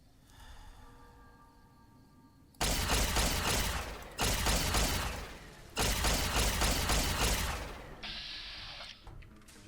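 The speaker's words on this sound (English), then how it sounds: "Just thought I'd fire some pot shots." Gunfire in Fallout New Vegas: after a quiet stretch, three loud, dense bursts of shots, each lasting over a second, separated by short gaps, followed by a fainter mechanical clatter.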